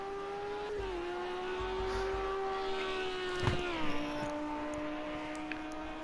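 A GT3 race car engine in a sim racing game drones at a steady high pitch while the driver aggressively weaves to warm the tires, the tone dipping twice as revs drop, with faint tire scrubbing underneath.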